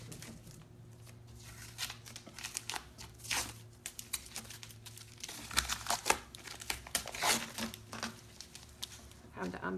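Masking tape being peeled and pulled off a sanded hammered-metal finish surface, with close crinkly tearing and crumpling bursts over a low steady hum, the peeling intensifying toward the end.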